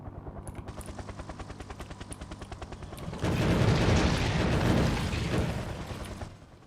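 Video game battle with artillery and gunfire: a steady rapid mechanical pulsing gives way midway to a loud, dense roar of blasts and firing that swells for several seconds, then eases back.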